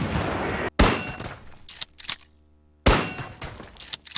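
Gunfire in the VR shooter Ghosts of Tabor: two sharp, loud shots about two seconds apart, each with a ringing tail. Fainter clanks and thuds fill the gaps, with no talking.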